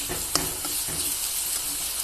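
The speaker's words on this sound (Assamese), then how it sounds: "এতিয়া ইয়াতে যিখিনি নৰসিংহৰ পাতৰ পেষ্ট বনাই থোৱা আছিলে সেইখিনি মই ঢালি দিছোঁ।" Curry leaf paste pours into a hot pan of Assamese fish curry and sets off a steady broadband sizzle. A few soft stirring clicks come near the start, and there is no talk.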